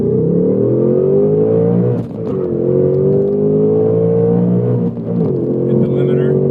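A stock 2024 Ford Mustang S650 engine held hard against the rev limiter during a drag run, a loud, sustained high-revving drone inside the car that briefly cuts and recovers twice.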